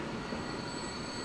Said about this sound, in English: There goes the other train.